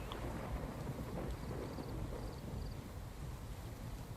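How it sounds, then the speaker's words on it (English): Thunderstorm in the video game Ghost Recon: a faint, low rumble of thunder with rain and wind hiss, steady and quiet throughout, no speech. "God, is it a stormy weather?"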